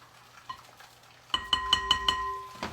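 Two eggs being scrambled in a wok with sesame oil give off a quick run of about five bright metallic clinks in a steady rhythm, close and fairly loud, after a quieter stretch.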